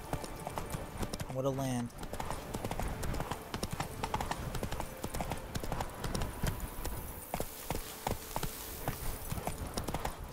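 Horse hooves clip-clop steadily as a mount is ridden through The Witcher 3, the regular beat running the whole time under a game soundscape, with a brief whinny-like tone early on and someone speaking over it.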